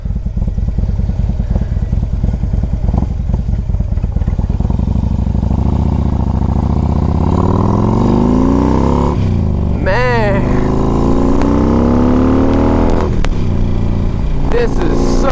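A 2008 Harley-Davidson Ultra Classic 105th Anniversary fitted with big Vance and Hines pipes rumbles steadily and close, its engine note rising as it accelerates, with a rider talking over the loud exhaust throughout.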